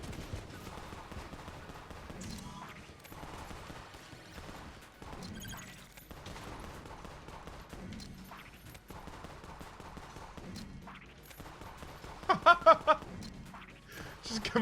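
Rapid gunfire from the Enter the Gungeon game, a laser-type weapon firing in bursts with a sharp cluster of shots near the end, running under steady talk.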